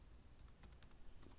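Quiet typing on a computer keyboard, a sparse run of light key clicks coming in small irregular bursts against a low background hum.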